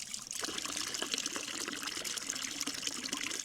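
Water trickles and splashes steadily from the spout of a natural forest spring, a close, continuous bright babbling flow with no voices.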